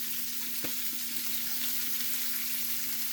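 Brussels sprouts sizzle in a tablespoon of beef drippings, giving a constant close hiss with a faint steady hum beneath it and a single light clink early on.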